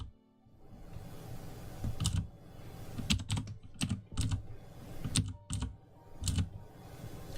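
Keys tapped on a computer keyboard with hotkeys during digital painting, several quick bursts of close clicks separated by short pauses.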